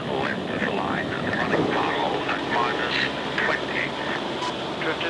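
A transport aircraft in flight carries a 30-ton load along its lengthened fuselage, its engines giving a steady, broad roar that fills the whole stretch while someone talks over it.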